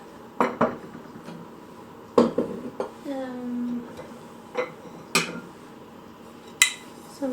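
Ceramic plates and bowls being set out for an Easter table clink and knock against each other and the tabletop in a series of sharp, separate contacts, one with a short ringing tone, close by in a quiet room.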